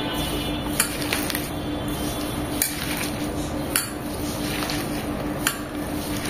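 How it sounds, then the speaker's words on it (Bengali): Salt and two spoonfuls of onion paste being kneaded and crushed together by hand in a bowl, a steady close wet squishing and rubbing with occasional sharp clicks of a utensil or bowl against the container. "এখন এটাকে খুব ভালোভাবে কুচলিয়ে হাতে মেখে নেব"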